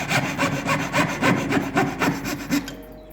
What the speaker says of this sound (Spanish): con sierra 3-0 vamos a cortar todos los excedentes internos de las grifas